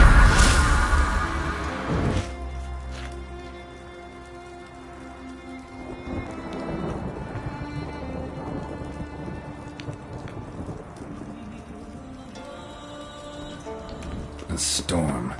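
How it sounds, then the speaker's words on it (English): Thunderstorm in The Witcher 3 video game: steady heavy rain pattering on surfaces with a loud opening thunder crack and low rumbling thunder rolling underneath, a broad continuous wash with a few brighter gusts. "A storm, damn it."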